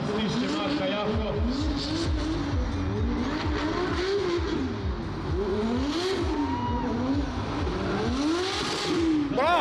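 Drift race cars running door to door, engines revving and rising and falling in pitch with tire noise, loud and continuous throughout, with an excited commentator talking over them.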